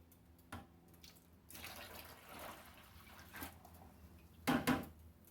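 Liquid poured into glassware while refining silver scrap, a soft steady trickle with faint splashes, ending in a couple of sharper clinks and drips close by.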